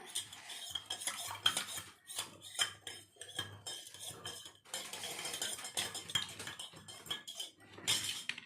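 Knife and utensils clatter against a board and dishes while ingredients for a homemade virgin mojito are cut and stirred, a busy run of close metallic taps and clinks with no voices.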